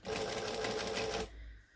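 A sewing machine runs steadily, top stitching around a box, with a fast even whir for just over a second before it stops and faint room tone remains.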